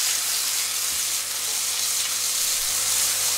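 Food sizzles steadily in a pan, a constant bright frying hiss with faint stirring taps, close and without talk.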